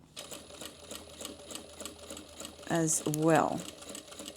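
A sewing machine back-stitches a pleated fabric bag with a fast, steady mechanical patter, running briefly and close by as someone speaks over it.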